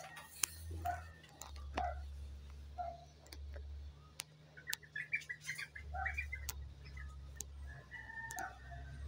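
Small pipit chirping in short, scattered calls outdoors among coconut palms, faint to moderate over a steady low rumble of wind or walking noise.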